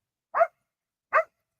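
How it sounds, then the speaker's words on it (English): A pet dog lets out two short, sharp barks spaced about a second apart, close and clear with silence around them. "If there's a bird in the sky, he's gonna bark."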